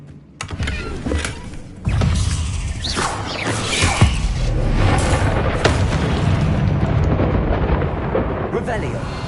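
A Bombarda spell in Hogwarts Legacy sets off loud booming blasts, one early burst then a heavier rumbling explosion that rolls on and sustains, with a voice heard briefly at the start.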